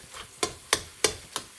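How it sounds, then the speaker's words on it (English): A spoon scrapes through potato stuffing and masala in a pan for stuffed tomatoes, four evenly spaced stirring strokes with a faint sizzle underneath, close and moderately loud. "just mix that potato stuffing into the masala"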